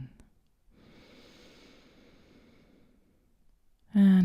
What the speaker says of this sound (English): taking a deep breath in and a deep breath out